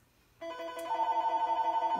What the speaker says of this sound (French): On entend le téléphone sonner